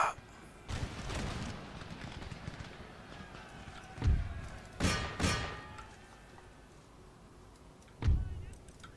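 Musket volleys crack out in Empire Total War during a USA battle near Berlin, a few separated loud thumping bursts over a low battlefield murmur, with no talk.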